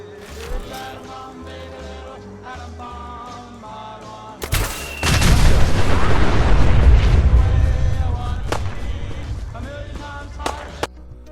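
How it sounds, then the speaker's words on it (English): A nuclear blast erupts in a Fallout video game: a sudden sharp crack followed by a long, heavy, rumbling roar that slowly fades, with faint game sounds and scattered clicks before and after. "after a point-blank nuclear blast, the child is unharmed and runs away"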